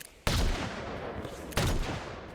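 Two sharp gunshots from an in-game weapon during a competitive shooter grand-finals match, fired about a second and a half apart, each a loud broadband crack with a short decaying tail and no talk over them.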